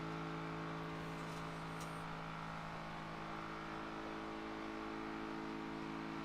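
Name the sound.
car engine driving in video game Project Zomboid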